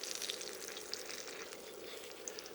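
Shrimp egg foo young frying in a pan, a soft, steady crackling sizzle with small pops, close but fairly quiet, with no talking.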